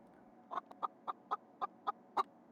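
Steady rhythmic clucking from a video-game chicken, a string of about eight evenly spaced, fairly loud clucks heard alone without any voices.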